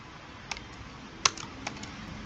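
A few isolated keystrokes on a computer keyboard, close and clicky, spaced irregularly with one sharper tap in the middle, against a quiet room hiss.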